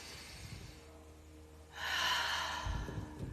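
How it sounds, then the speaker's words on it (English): A single deep breath, drawn in and let out close to the mic, with a soft sigh-like exhale swelling loudly midway through a quiet stretch. "Go ahead and take one more big deep breath."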